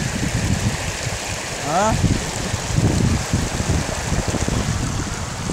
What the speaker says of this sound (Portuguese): Muito filé o rio.